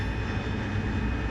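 Engine of a Harrier jet in the flight game DCS World, a steady loud rumbling roar with broad hiss, continuous and unbroken, with no talking.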